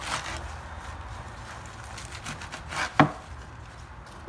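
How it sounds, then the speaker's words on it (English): Quiet, scattered taps of a kitchen knife cutting through stacked leafy greens and beet leaves on a board, with one sharper, louder chop near the end. "And then you can cut them just a little bit bigger."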